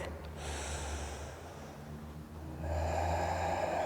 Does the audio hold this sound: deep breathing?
yes